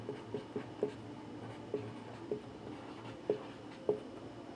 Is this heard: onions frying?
no